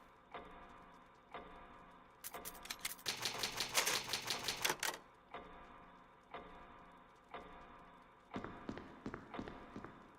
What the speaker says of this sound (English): It's an old typewriter.